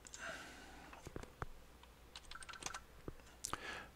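Computer keyboard typing during a SWGEmu online game session, quiet close key taps in irregular bursts with gaps between, some keys louder and sharper than others.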